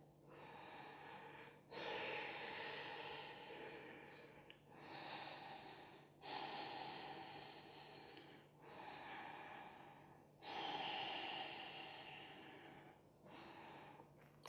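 Slow, audible Ujjayi breaths during a vinyasa yoga session: long, hissing, throat-constricted inhales and exhales alternate close up in an even rhythm, about six breaths, with no talking.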